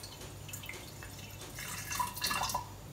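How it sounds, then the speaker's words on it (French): Water pouring from a pitcher into a mixing bowl of brioche dough mix, a short soft trickle that rises into a brief splashy gush near the end, close and quiet with no voices. "il nous faut 100 g d'eau que je vais verser avec mon pichet"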